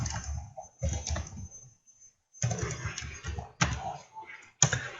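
Keys clacking on a computer keyboard as a name is typed into a Python input prompt, a few short bursts of clicks mixed in with someone talking.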